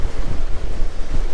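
Ocean surf breaks and rolls continuously on a crowded beach, a loud, close wash of churning water with gusts of wind buffeting the microphone throughout.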